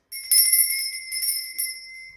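A small hand bell rings close by with bright, sustained metallic tones, shaken in a few quick bursts that then ring out and fade in an otherwise quiet room.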